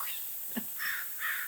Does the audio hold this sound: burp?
no